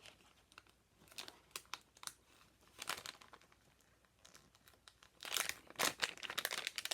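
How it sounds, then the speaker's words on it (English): A Stampin Seal package is torn open in a few short, crinkly bursts of plastic, close by and fairly quiet, louder toward the end, with no talking. "I'm just going to tear open this package"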